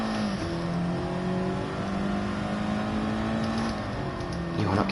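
A racing car's engine drones steadily in a racing video game at Brands Hatch, loud and close with rising and falling revs through gear changes and no talk.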